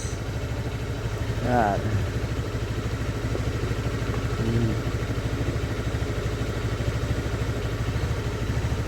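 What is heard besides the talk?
Honda Beat FI motorcycle engine idling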